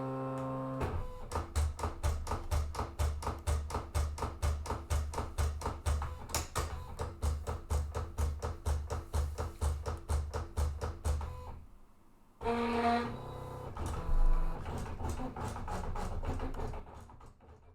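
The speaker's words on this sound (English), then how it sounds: "my machine is doing lots of like small presses, and the reason it's doing that is because it's doing all the dashed lines" A Silhouette Cameo cutting machine making many small pressing strokes to cut dashed lines into paper, a fast regular train of taps with motor whir, then a brief pause and a shorter burst of carriage movement and clicks.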